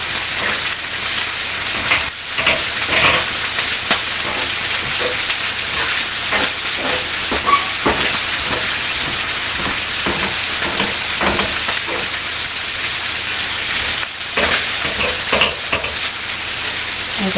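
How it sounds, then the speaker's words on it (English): Vegetables stirring in a hot pot, a steady close sizzle and steam hiss running throughout with repeated soft scraping and clinks from the utensil. "So now I'm just going to kind of stir that."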